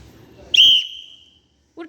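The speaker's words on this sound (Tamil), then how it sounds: "நான் விசில் அடிக்கும் போது தான் போடணும்." A teacher blows a sharp, shrill whistle on the sports field, one sustained blast that fades out, then a short bit of voice follows.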